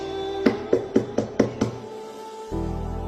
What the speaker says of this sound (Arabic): يوم اللي يندق بابك هيك